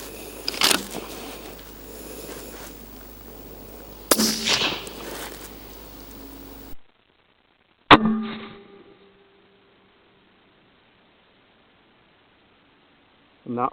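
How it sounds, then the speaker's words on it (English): Rifle shots ring out at a shooting range while a rifle is being zeroed, three sharp loud cracks spaced several seconds apart, each followed by a fading echo, close and otherwise quiet between shots. "We'll fire another round."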